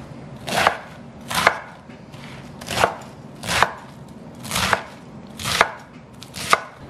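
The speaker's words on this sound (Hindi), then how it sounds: "तो बड़े बड़े रफली काट लें" Vegetables for a soup are roughly chopped into large pieces with a knife on a cutting board, eight loud, crisp thuds at a steady, unhurried pace, close up with no talking.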